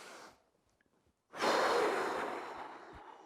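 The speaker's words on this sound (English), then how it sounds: "So I want big breath" A big, deep breath during a bodyweight HIT workout: a brief faint intake, a pause, then a long, full exhale that fades out slowly, close and clear.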